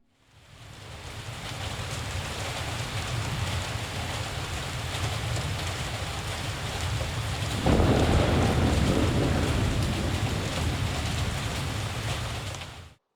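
Steady rain and rumbling thunder from a storm in a fishing-village video game, a continuous wash of noise that swells louder and heavier partway through.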